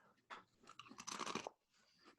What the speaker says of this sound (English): Forgive the crunching.